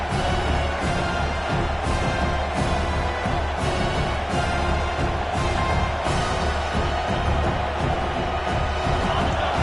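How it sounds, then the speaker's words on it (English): A large college football stadium crowd roars in a sustained wall of noise, with rhythmic swells of cheering. "Listen to this crowd just shaking the girders of this place trying to help their defense."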